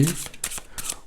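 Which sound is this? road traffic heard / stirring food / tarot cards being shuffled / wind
tarot cards being shuffled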